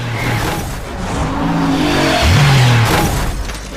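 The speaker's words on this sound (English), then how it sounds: "Drifting through those narrow streets, it's very easy to get out of control" A car drifts through narrow Moroccan streets in a chase, its engine roaring loudly and close while tires squeal in long sliding tones over a steady revving drone.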